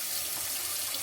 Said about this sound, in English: I'm starting my water here.